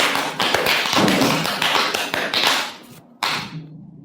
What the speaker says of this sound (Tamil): இவனுக்கு எல்லாரும் கை தட்டுங்க